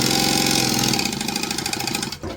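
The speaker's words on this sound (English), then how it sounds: "we're just going to stitch a 1/4 inch seam allowance all the way down" A sewing machine stitching a quarter-inch seam down a length of fabric, a loud close rapid mechanical whirring that runs steadily, then slows and stops at the end.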